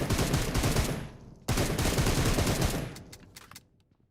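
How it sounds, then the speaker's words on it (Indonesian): Rapid automatic gunfire from a video game, dense bursts that cut off briefly then resume loud before tapering to scattered shots and fading near the end. "Itu siapa sih yang ribut nembak-nembak mulu nih?"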